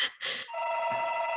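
A telephone rings with two short electronic chirps followed by a sustained steady ringing tone, fairly clear and close, with no talking.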